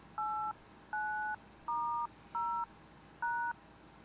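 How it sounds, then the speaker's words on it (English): Five separate telephone keypad DTMF dialing tones, each a steady two-pitch beep lasting about a third of a second, spaced by short pauses over a quiet background. "On a keypad, specific frequencies were assigned to the horizontal axis and the vertical axis, so that each button was uniquely identifiable by the combination of two tones"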